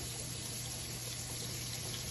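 Warm water runs steadily from a tap to wash peaches, a constant close splashing stream with no voices.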